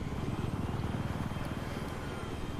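A helicopter in the video game Battlefield 3 drones with a steady rotor thump and engine roar, continuous and fairly loud throughout, with no voices.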